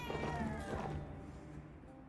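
A house cat meows several times, close and fairly loud, with a drawn-out call that fades as it ends, heard over a quiet room with no clear talk.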